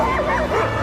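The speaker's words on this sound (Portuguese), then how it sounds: "Cães correm atrás dele." Several dogs bark and yip in quick, overlapping bursts as they run after a man climbing a snowy mountain, loud and close, with a busy, continuous texture and no clear gaps.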